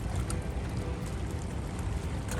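A Blackfin center console boat with a single Yamaha outboard passes off Dania Beach, Florida, throwing a wake; a steady, rumbling outboard drone mixes with rushing water and wind, constant and fairly close.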